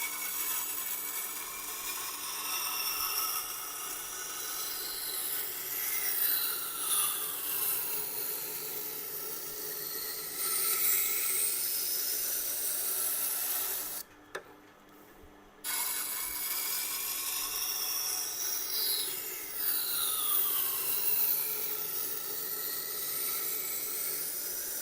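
A knife is ground on a freshly trimmed sharpening wheel, a continuous close rasping hiss that rises and falls in repeated sweeping strokes, briefly cutting out near the middle before resuming.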